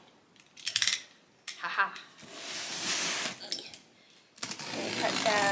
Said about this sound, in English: I got my handy dandy box cutter with me. We're gonna pop this bad boy open and see what's inside.